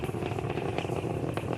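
Nine Merlin 1D engines of a Falcon 9 rocket during ascent, a loud steady roar with rough crackling texture and a constant low rumble.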